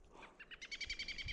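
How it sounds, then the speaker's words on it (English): A small wild bird calls from a tree above a climber in the Montana wilderness, a short faint run of quick chirps that grows into a brighter repeated twitter. "I just had a bird land up there above me."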